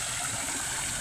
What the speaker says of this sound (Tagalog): meron siyang parang waterfalls doon